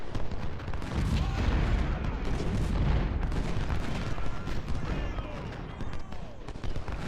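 Cannon volleys from a Civil War artillery battery in Ultimate General: Civil War at Malvern Hill, a dense continuous rumble of booms and crackling gunfire, loud and sustained throughout with no pauses.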